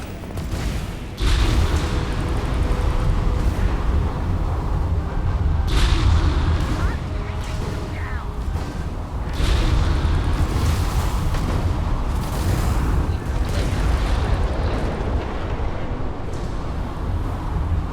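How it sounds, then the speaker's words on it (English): A spaceship is blown apart in the space game Starfield, heavy booms and blasts bursting repeatedly over a loud rumbling bed of combat noise, near and forceful. "Okay, we destroyed his ship."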